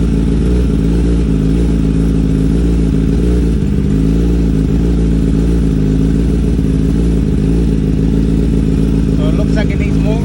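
A 2023 Kawasaki ZX-10R ABS KRT Edition idles steadily throughout, with a low, loud, continuous engine drone and some light mechanical clatter, during a first oil change.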